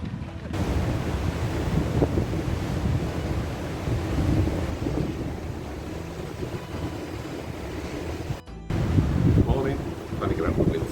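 Wind gusting across a microphone at a cruise ship dock in the port of Edinburgh, a loud continuous roar and buffeting that drops out briefly near the end, then resumes just as heavily.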